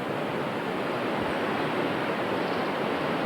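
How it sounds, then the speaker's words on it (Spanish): A roaring river on a Himalayan route rushes in a steady, dense wash of noise, close and unbroken throughout, with no voices over it. "Aquí, oyendo el bramido del río"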